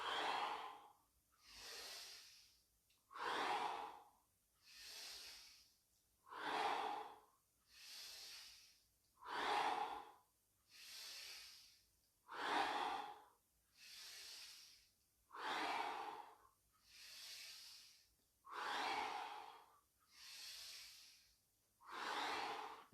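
Slow, deep breaths drawn in and released during a seated grounding exercise, about a dozen even cycles of soft airy inhales and exhales, close and quiet, with no talking.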